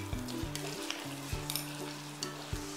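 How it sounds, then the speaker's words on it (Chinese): Diced ginger fries in hot oil in a heated clay pot, giving a loud continuous sizzle with a few clinks and scrapes of a utensil stirring. "我们倒点油进去，先放入姜粒煸香"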